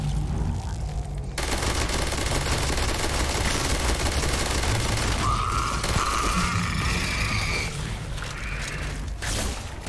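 Rapid gunfire from a weapon in a survival horror video game, a dense continuous rattling burst running loud and steady throughout, with mechanical clicking layered in.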